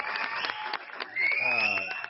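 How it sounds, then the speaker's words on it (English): Applause sound effect in a short burst of clapping, with a whistle-like tone rising through it and talk running over the top. "No, we want the applause."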